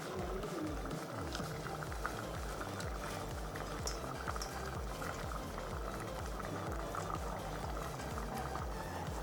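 Omena, small dried fish, bubbles steadily in a pot of vegetable and coconut sauce, a close, continuous simmer with no talk.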